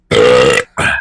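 Two loud, close burps in quick succession, a long drawn-out belch followed by a shorter one after a brief pause, with no talking.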